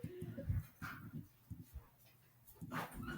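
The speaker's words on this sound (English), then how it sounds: "I knew it was only a matter of time before my dog started barking." A dog barks and yips in short, uneven bursts somewhat in the background, a few sharp yelps spread across a few seconds with quiet gaps between them.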